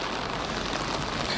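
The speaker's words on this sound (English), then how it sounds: "We've got a pounding rain out here in Lancaster" Heavy rain pounds down in Lancaster during Tropical Storm Hilary, a dense, steady roar of drops with no pauses or voices.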